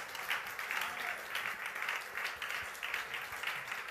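A church congregation claps for the King of Kings, a dense, steady wash of rhythmic clapping that pulses evenly throughout, with voices mixed into the din.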